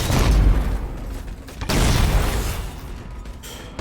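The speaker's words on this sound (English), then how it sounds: "Oh shit, my grenades." Grenades in a Halo battle go off as loud, close, booming blasts, two heavy bursts of explosive rumble with a gap between them and a sharp pop at the very end, no voices over them.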